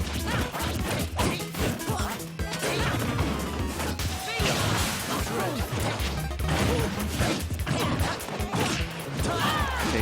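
Rapid hits and smashes from Super Smash Bros. 4 doubles play, a dash attack followed by jab strikes, crowding together in a dense, loud run of impacts over game music, with a voice underneath.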